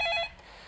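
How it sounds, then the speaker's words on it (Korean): A telephone rings once for a viewer calling in to a stock-market call-in show, a short electronic ring that cuts off after a fraction of a second into quiet room tone. "이번엔 전화 받아보도록 하겠습니다"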